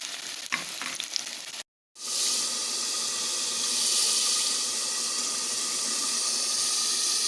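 Okra frying in hot oil, a steady bright sizzle with occasional stirring, broken by a brief silent cut before the loud, continuous frying resumes.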